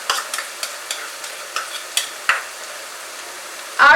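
A cashew and poppy seed paste fries in a pan for cauliflower korma, giving a soft sizzle under repeated spatula scrapes and stirs, close and without voices, ending in a brief louder clatter.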